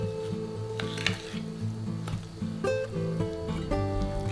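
A spoon scrapes and taps against a bowl while mixing butter with powdered sugar, thick, with soft clinks at irregular intervals over quiet background music.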